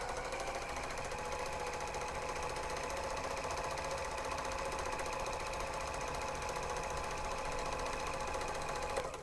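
A serger overlock sewing machine stitching the edges of grime guards, running steadily and loud with a dense, even whirring hum throughout, no talk over it.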